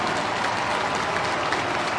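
A college basketball arena crowd roars steadily after a foul in an Indiana vs Maryland men's game, a loud dense wash of cheering and applause filling the whole moment without letup.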